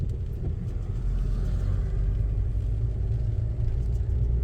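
A learner driver's car pulls away from a stop on the road, with a steady low engine rumble and road noise holding at an even level throughout, and no sharp revving.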